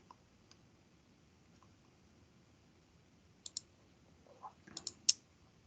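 A computer mouse clicking on a link in a quiet room, a few sharp close clicks in a short burst after a near-silent stretch.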